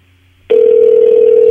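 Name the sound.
telephone ringing on an unanswered call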